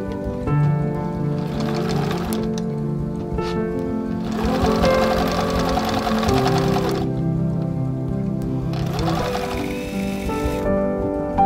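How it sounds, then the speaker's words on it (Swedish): A sewing machine stitches a ruffle for a skirt in three sustained runs, each followed by a short pause, heard over a steady musical background. "Utan nu syr vi den här follen och är glada och nöjda med livet."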